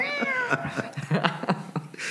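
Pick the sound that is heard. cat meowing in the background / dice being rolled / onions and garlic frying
cat meowing in the background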